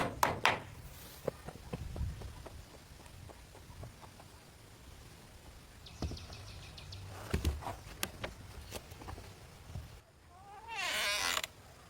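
A handmade door on an underground shelter, set among grass and massive stones, creaks on its hinges in scattered short groans and ticks, with a longer, louder drawn-out creak near the end over a quiet outdoor background.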